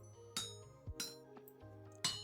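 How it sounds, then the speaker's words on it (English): Metal rings out as it is hammered on an anvil in the video game Vintage Story, with three or four bright clinks spaced unevenly across a couple of seconds and quiet in between. "If you hold down click, you hammer a bit quicker."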